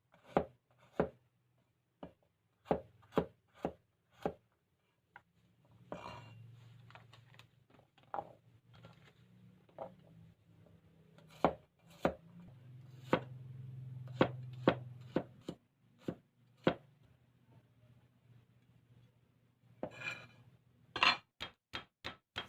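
A knife chops rendang spices, including galangal, on a cutting board before they are ground: sharp, close thuds that come in uneven bursts with short pauses between them.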